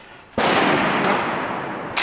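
A large Korean repeating crossbow looses a bolt with a sudden loud, sharp snap, followed by a sustained, loud broadband rush that fades slightly over about a second and a half, then a second brief burst at the end.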